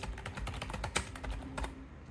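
A steady, rapid stream of close computer-keyboard keystrokes that continues without a break, with no voices over it.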